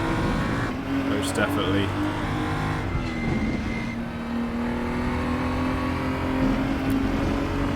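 Race cars roar around Brands Hatch in a close battle, engines droning and shifting pitch as they chase nose to tail, heard under continuous commentary.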